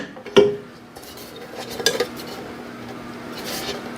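A Vevor bread maker's metal baking pan is handled and fitted sideways into the machine, a sharp clank near the start followed by a few lighter metallic taps and scrapes over a quiet background.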